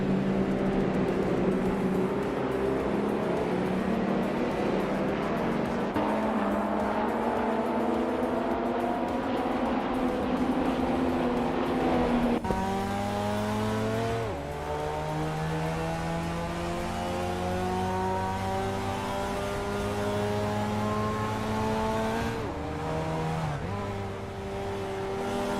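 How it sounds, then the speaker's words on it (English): A 1983 Porsche 911 SC race car accelerates hard in a racing game, its engine note rising through repeated gear shifts with a sharp cut between gears, loud and steady throughout. "Scuderia Veloce is driving a 1983 Porsche 911 SC"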